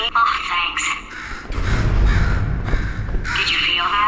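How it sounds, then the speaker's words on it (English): A crow cawing in the video game Portal 2, several harsh caws close up, mixed with game speech and a rumbling low background. "Could you, murder this bird for me?"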